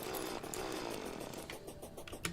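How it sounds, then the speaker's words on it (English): A mining drill in Terraria gives a constant harsh, buzzing grind with no pauses, like a small chainsaw, heard at moderate level alone throughout. "The drills are easily the worst item in the game. You want to know why? Because they make that sound the entire time you're using them."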